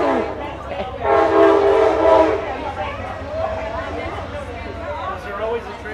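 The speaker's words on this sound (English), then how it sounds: "Was there always a train? Yes, it's always been a train here. Yes. That comes by and is loud." A loud train rolls past near a Rosenwald School, its horn blaring briefly before a steady rumble carries on under a voice talking throughout.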